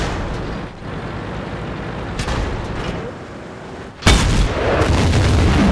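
A tank cannon shot lands on the player's T110E5 tank in a tank video game, a sudden heavy boom that cuts through the continuous engine rumble and battle noise.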